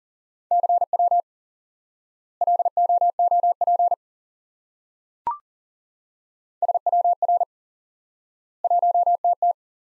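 Morse code CW practice tones: clean single-pitch keyed beeps forming short groups of dots and dashes, separated by silent gaps, with one brief click in the middle.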